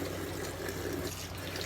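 Tap water runs steadily and softly to wet a man's head before a cold water shave, a constant close splashing wash with no voices.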